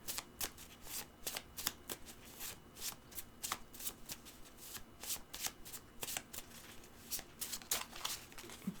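Petit Lenormand oracle cards shuffled by hand at close range in repeated quick riffling bursts, each flurry of papery flicks separated by brief pauses, with no talking.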